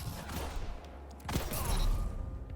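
Tempest Strike ability followed by a gunshot in the video game Destiny 2, a sustained rushing, crackling burst that swells midway into a louder blast with a rumbling tail, no talk.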